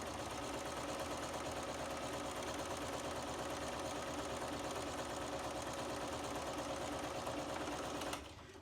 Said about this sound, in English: Again, we are stitching on these lines. I like to chain piece.